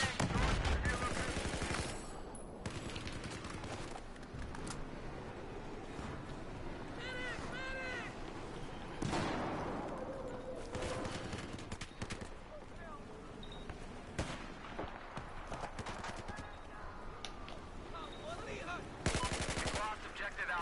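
Sustained heavy gunfire from Battlefield 4, with dense machine-gun bursts and scattered explosive blasts running through the whole stretch, loud and close amid continuous battlefield din, with sharp surges near the middle and end.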